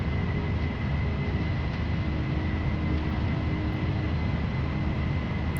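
A simulated Boeing 747-400 rolls down the runway for takeoff in FSX, its engines making a steady, loud, broadband roar that holds an even level with a faint tonal whine throughout.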